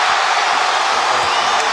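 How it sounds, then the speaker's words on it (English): Sellout arena crowd at an NBA basketball game at Oracle Arena roaring and cheering loudly and continuously, a dense wall of voices with no single speaker standing out. "They're standing at Oracle, a sellout crowd."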